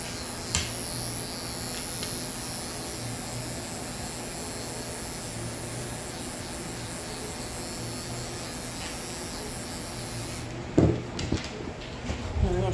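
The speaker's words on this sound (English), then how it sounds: "And I'm going to shave the other side of his Pater Pumpkinator." Electric clippers shave a goldendoodle dog, a steady close buzzing hum running throughout, then a few soft knocks and handling noises near the end.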